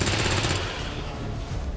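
Rifle fire in the video game X-Com 2: War of the Chosen, a dense burst of gunfire that fills the short span at steady loudness with no pause between reports.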